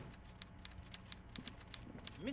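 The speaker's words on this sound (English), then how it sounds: "Everard Clare clatters away on his typewriter, willfully indifferent to your presence" Rapid, light typewriter keystrokes clatter in an uneven rhythm at low level, a character's typing from the video game Disco Elysium, with a faint tonal sweep at the very end.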